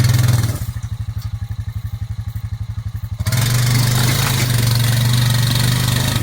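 A vehicle engine clearing woods for solar panels runs loud and close, chugging in a steady rapid pulse as it backs up, then revs to a continuous strained roar while pushing a log.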